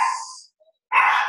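Dogs bark at a delivery man at the door, two sharp, loud close barks separated by a brief silence.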